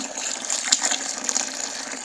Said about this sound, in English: adding 2 gallons of water to the ash